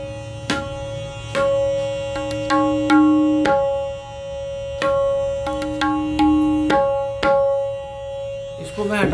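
A professionally made tabla tuned to C sharp is struck in a slow, uneven series of ringing, resonant strokes with a clear sustained pitch, close and loud, with no talk.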